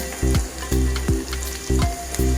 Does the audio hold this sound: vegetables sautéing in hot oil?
yes